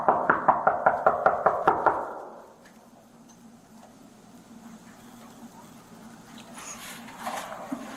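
A sheriff's officer knocks on a house door in a rapid, even run of about eight firm raps, then the knocking stops and a quiet room tone follows.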